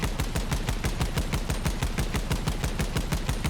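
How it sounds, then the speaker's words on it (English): Machine guns in the vehicle combat game Crossout fire in a rapid, continuous burst, evenly spaced loud cracks hammering without pause and with no talk over them. "the longer we're firing, the more accurate they're getting"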